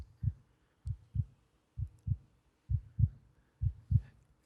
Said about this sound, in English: And it's just this pure heartbeat